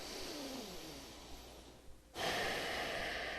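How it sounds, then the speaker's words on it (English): A slow, deep breath drawn in during a neck stretch, soft and close, ending in a sharp jump in room noise. "Take a deep breath in."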